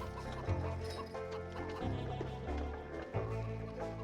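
Chickens clucking in The LEGO Movie Videogame, a steady run of clucks and fowl calls over a busy game soundtrack, with a few louder thumps breaking in.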